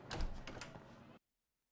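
A door opens in the action game Lost Judgment, a short close rolling slide with a couple of clacks lasting about a second before cutting to silence.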